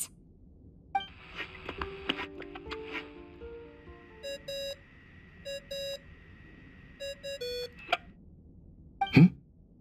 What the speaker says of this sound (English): I really hate that ringing tone.